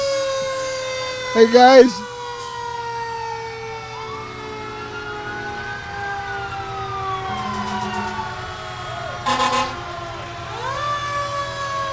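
A fire engine siren wails and slowly rises and falls at a July 4th parade in Austintown Township, with two short loud horn blasts and a brief greeting spoken over the steady hum.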